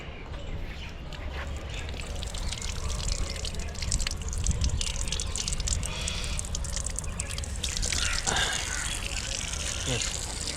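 A water tap in the backyard of the Red Fort in Delhi runs in a steady, loud splashing stream, with outdoor ambience and faint voices around it.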